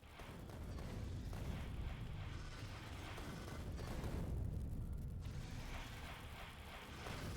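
Turret fire in the Factorio video game, shooting through cliffs at alien nests: a dense, continuous rumble of booming shots and bursts at steady loudness throughout, with no voices.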